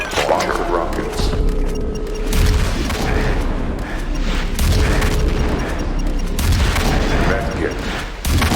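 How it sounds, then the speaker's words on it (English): Rocket launcher explosions in the video game Doom: repeated heavy booms and blasts in irregular succession, loud and close, with a person talking over them. "Rocket launcher rockets"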